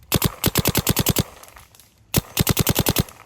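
A Planet Eclipse Geo R5 paintball marker with a brass SFR set to plus fires two rapid strings of about ten sharp, loud shots each, separated by a brief quiet gap.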